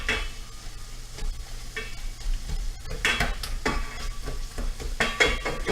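Pork stirred and sizzling in a hot pan, steady frying hiss with scraping stirs and utensil clatter, louder bursts of sizzle toward the end, no talking.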